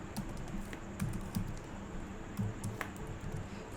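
Quiet, close typing of Java code on a computer keyboard, with soft clicking keystrokes in short irregular bursts over a faint steady room hum.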